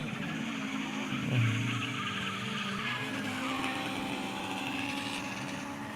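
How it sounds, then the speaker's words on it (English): A drift car skids with a sustained tire squeal and engine roar, a long continuous screech at moderate distance. "Look, it's a really good drift car."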